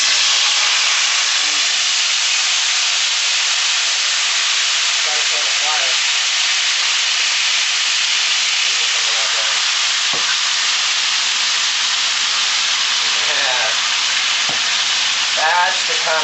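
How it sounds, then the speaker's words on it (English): Vegan mix in hot oil in a pan sizzles loudly and continuously with a dense, steady hiss. Occasional scrapes and clinks come from stirring, and faint speech sits underneath. "But we're going to go ahead and put this in and get it stirring. We got our oil going ahead and getting hot for us."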